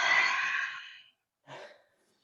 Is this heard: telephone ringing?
no